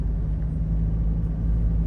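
Dense city road traffic in Kathmandu, heard as a steady low rumble of cars and motor vehicles that holds an even level throughout, with no talking.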